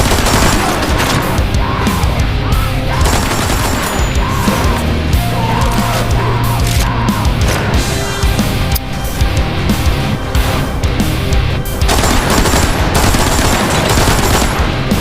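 Continuous automatic gunfire rattles loud and dense in the video game Metro Awakening, with rapid bursts and fusillades nearly unbroken throughout.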